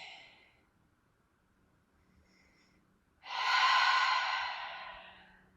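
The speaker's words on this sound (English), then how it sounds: "Receiving breath into the lower belly." Slow yoga breathing drawn into the lower belly: a faint breath at the start, a quiet pause, then one long, clear exhale close to the ear that slowly fades.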